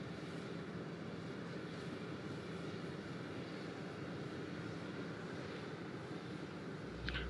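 Special Air Mission 39, a presidential plane, drones steadily, its aircraft engines making a continuous broadband roar that holds an even level throughout, with no voices over it.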